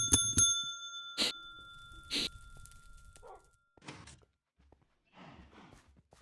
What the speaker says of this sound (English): I gotta go ring the bell for penance on those terrible jokes.